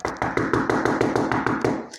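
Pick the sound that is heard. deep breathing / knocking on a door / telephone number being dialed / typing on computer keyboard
knocking on a door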